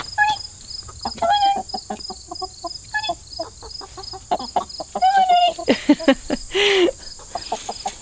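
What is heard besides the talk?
chicken clucking after being let out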